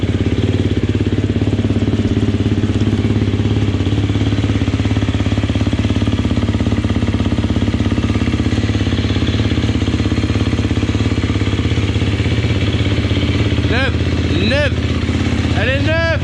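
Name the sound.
new motorcycle engine running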